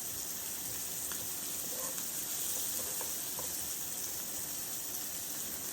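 Mushrooms sizzle and fry in a pan over medium-high heat, a steady, dense crackle close by with occasional faint pops, and no talking.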